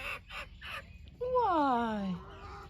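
Coconut, a pet chicken in a backyard coop, lets out a rising then falling chirpy warble that lasts about a second, heard close up after a few soft voiced sounds.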